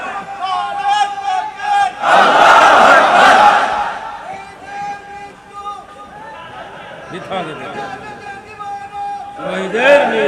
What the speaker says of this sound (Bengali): কেউ তো স্লোগান দেন।